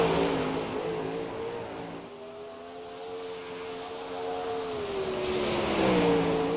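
Race car engine at Williams Grove Speedway during qualifying, a steady loud drone with a rising harmonic whine, pitch dipping then climbing again as the car runs the track.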